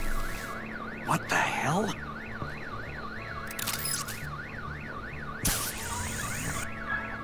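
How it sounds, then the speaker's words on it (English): Car alarm going off in the video game Batman: The Enemy Within, a loud looping two-tone warble that runs throughout, interrupted by a few sharp bangs and a brief exclaimed voice. "Let's set up car alarm."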